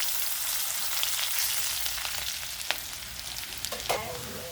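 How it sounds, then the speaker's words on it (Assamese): Bay leaves hit hot oil with whole cumin seeds and finely chopped onion, giving a steady, loud, close sizzle with faint crackles and a few brief clinks and stirs near the end, no voices. "মই 3খন তেজপাত দি দিলোঁ"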